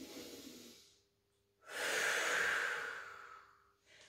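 Deep breathing for lung convalescence, with a soft exhale fading out, a pause, then a long, full inhalation that swells and tapers, and the start of another breath, close and quiet with no talk.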